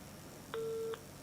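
A telephone rings on a call to Henry Flomo, a single short two-tone ring pulse, faint and thin against a quiet background.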